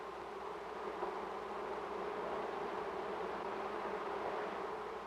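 Worker honey bees buzz inside a hive, a dense, steady, even hum of many wings sustained throughout at a moderate level with no voices.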